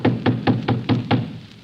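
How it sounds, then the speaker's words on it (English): Knocking on a house door, six firm, evenly spaced raps close by, with nobody speaking. "Knock louder, George."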